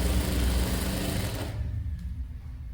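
A sewing machine stitches a dress being made from a saree, giving a close, rapid mechanical whirr. It stops abruptly partway through and leaves near silence.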